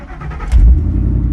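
A Volvo truck's engine fires up by push button start, a short, loud low rumble that swells and settles into a steady idle, close by.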